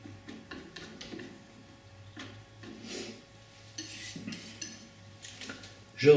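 A palette knife scraping and tapping as it mixes blue and burnt sienna oil paint on a palette, faint irregular clicks and smears close by under a low steady hum.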